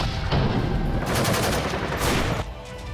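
Rapid gunfire rattles through city streets in Kyiv during the Russian attack on Ukraine, a loud, dense burst of shots that carries on almost without pause, with a few sharper volleys standing out near the end.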